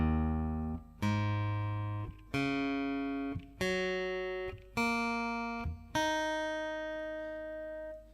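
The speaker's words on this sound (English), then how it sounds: "the guitar is in standard tuning but a half step down, so we're in E flat" Guitar strings tuned to standard tuning a half step down, in E flat, are plucked one at a time, giving six separate ringing notes that each decay before the next, alone and fairly quiet.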